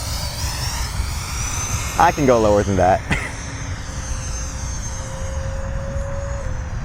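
A Freewing Mirage 2000C V2 RC jet with an 80mm electric ducted fan flies overhead with a steady high whine that rises and falls in pitch. Someone talks briefly over it, close to the microphone.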